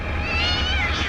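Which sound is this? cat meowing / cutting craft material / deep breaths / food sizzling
cat meowing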